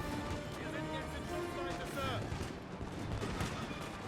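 Musket volleys and scattered gunfire crackle from soldiers in Napoleon Total War, a dense, continuous rumble of shots with someone talking over the battle.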